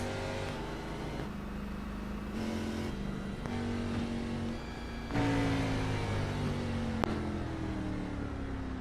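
A race car in a Gen 6 Cup Series racing video game revs through gear changes as it leaves pit road at Homestead. Each rev climbs in pitch before dropping at the next shift, with a sharp click near the end.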